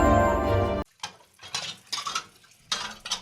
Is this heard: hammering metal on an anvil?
no